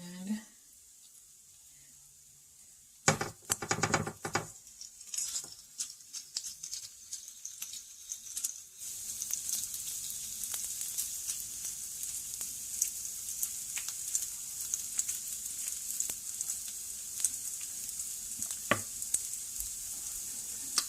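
Food frying in a pan for keto meal prep: after a quiet start and some stirring or scraping, a steady bright sizzle sets in and continues close up, with no talk.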